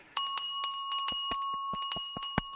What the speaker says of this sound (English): if you want to grab that bell, Will, all ready for you to ring in 2 seconds